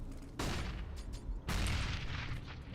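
AK rifle fire in an esports video game match, two loud bursts of rapid gunfire with a brief lull between them, set against faint background noise.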